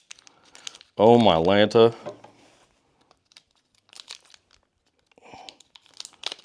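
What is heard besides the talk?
photographic film being cut and handled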